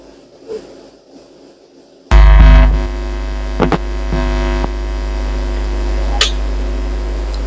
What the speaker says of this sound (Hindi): अब एसी को हम क्या करने वाले हैं, ऑन करने वाले हैं।